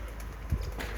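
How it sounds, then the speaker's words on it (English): Birmingham Roller pigeons giving a single low, soft coo, close by, over a faint background hum. "to introduce our Birmingham Roller Pigeons to you"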